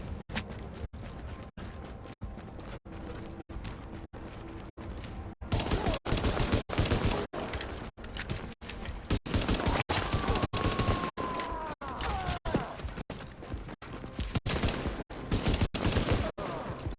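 Rapid repeated gunshots in a survival shooter game, sharp regular cracks spaced about every half second over a dense, noisy background, loud and continuous without speech.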